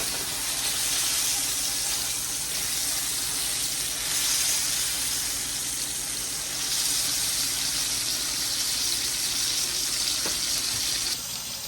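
Beef browning in a pan, searing on both sides, gives a steady sizzle and fry hiss that holds evenly for around twelve seconds, close and moderately loud with no voices over it.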